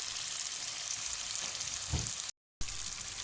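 Chicken liver (kaleji) fries in spices with a dense, even sizzle, close up and steady, broken by one short gap of silence. No speech.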